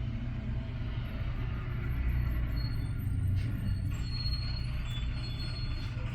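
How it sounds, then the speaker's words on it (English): School bus passing outside, a steady low rumble with a faint hiss of brakes, muffled and distant indoors, with no talk over it. "that's school bus"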